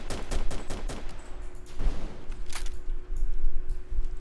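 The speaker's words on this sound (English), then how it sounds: "shoot with the coaxial machine gun" A tank's coaxial machine gun firing in a video game, a quick burst of rapid sharp shots at the start followed by further bangs and a heavier blast, with a steady mechanical hum beneath.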